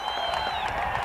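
Football stadium crowd at a 1991 Thanksgiving Day game cheering a gutsy fourth-down call, a steady roar of many voices filling the whole moment without a break.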